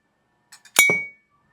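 Lemon and lime pieces dropped into a glass jar: two light taps, then one bright clink with a short ringing tail, all close and isolated in a quiet room.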